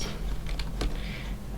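Computer keyboard typing in a quiet room, a few soft scattered keystrokes with one sharper clack near the middle over a steady low hum.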